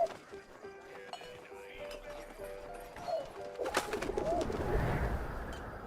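In 11-11: Memories Retold, a pigeon coos in a series of soft, low, wavering notes over steady background noise, followed by clattering and a rising rumble of ambient sound.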